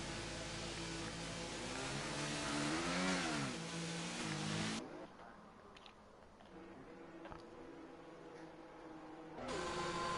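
Racing cars rolling out onto the track during a qualifying session in a racing video game, with a steady engine drone rising and shifting in pitch before dropping away and returning.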